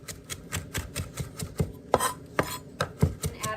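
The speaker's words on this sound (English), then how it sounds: "Then we can set those stems aside and just give these leaves a rough chop" A knife roughly chops fresh thyme leaves on a board, a steady run of close, crisp, evenly spaced strikes with a few sharper hits near the end.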